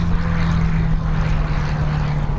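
Hawker Hurricane propeller aircraft fly over an air show, a loud continuous engine drone with a strong steady low hum and broad rushing noise, close and unbroken.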